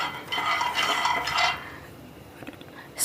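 Raw peanuts stirred with a metal spoon in a pan on a medium flame: a dense, close scraping and rattling for about a second and a half, then quieter scattered clinks.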